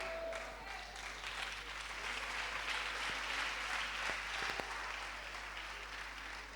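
A church congregation applauds and cheers in praise during a French-language worship service, steady clapping filling the room at moderate level with a few sharper claps near the end.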